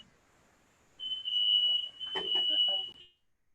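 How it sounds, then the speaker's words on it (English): A smoke alarm in a nearby house sounds a steady high-pitched electronic tone for about two seconds, somewhat distant, with faint background noise around it. "it sounded like a smoke alarm"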